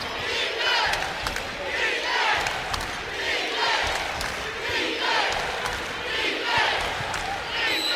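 A roaring, sustained crowd at a women's college basketball game in the Pavilion, South Carolina against Ole Miss, with a constant dense din and swells of cheering and shouting throughout.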